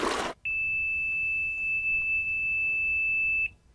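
Pool alarm being armed: a short burst of noise, then a single sustained high-pitched electronic beep held for about three seconds before cutting off, clear and close in a quiet room.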